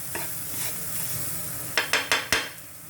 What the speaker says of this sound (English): So we're gonna cook the garlic for a bit.